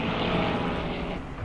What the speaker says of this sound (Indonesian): 4 jet tempur kemudian lepas landas dengan Dieter sebagai komando utamanya